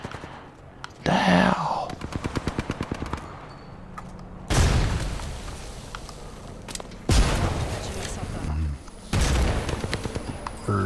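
Repeated bursts of video game gunfire, loud and close, arrive in several volleys of rapid shots with heavy booming impacts, while a player speaks briefly over the action.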